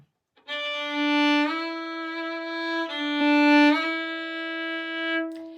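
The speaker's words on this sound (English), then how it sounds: "on the D string, I'm just going to slide all the way up" A sustained bowed string note on the D string that glides upward quickly from the nut, holds, then slides up again, ringing clearly and up close with no talking.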